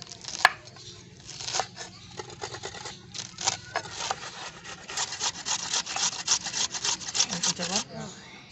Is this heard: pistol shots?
no